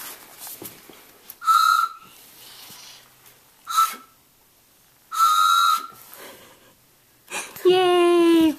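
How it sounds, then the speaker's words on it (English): A toy train whistle blown in several short, shrill hoots with quiet gaps between, the last blast longer and wavering; faint voices murmur in between. "she keeps having Daddy blow her train whistle"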